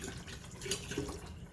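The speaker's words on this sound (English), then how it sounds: "And then I'm going to add the rest of this distilled water." Distilled water pours into a stainless steel kombucha vessel, a soft, steady liquid rush close by with a faint splash partway through and no voices.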